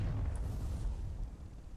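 A tank cannon firing in the vehicle design game Sprocket: a single deep boom with a low rumbling tail that fades over a second or two.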